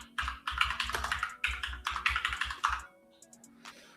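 Rapid bursts of typing on a computer keyboard, close and clear, with brief pauses between runs of keystrokes before the clatter stops and the room goes quiet.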